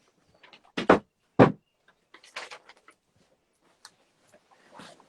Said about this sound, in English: I may have to shut the door